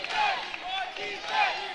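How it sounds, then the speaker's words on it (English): A basketball crowd at an OCAA women's game in Conestoga's gym roars for the Condors, a dense wash of cheering and shouting voices rising and falling in two swells over a brief moment. "As the crowd getting behind their Condors."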